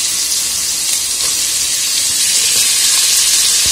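Potatoes dropped into a frying pan of hot oil set off a loud, dense sizzle and hiss that carries on evenly at close range, with no talking.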